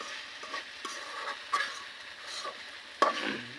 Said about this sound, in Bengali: আজকে আমি ভেন্ডি ভাজি করতেছি